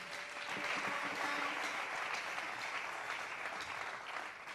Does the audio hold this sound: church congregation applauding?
yes